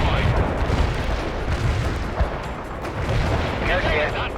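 Light artillery fire in the World in Conflict video game gives a dense, continuous battlefield roar of booms and rumbling blasts, loud and sustained, with radio voices talking over it.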